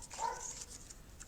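A dog gives a short, faint, distant yappy bark or two in a quiet indoor room.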